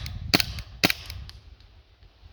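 Two sharp snapping shots from a KWC P08 Luger airgun fired at a target, spaced about half a second apart, each followed by a brief metallic clatter and a few fainter ticks, close and fairly loud.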